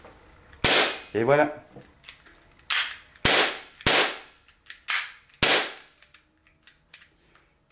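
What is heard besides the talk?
Bersa BP9CC airsoft pistol firing shots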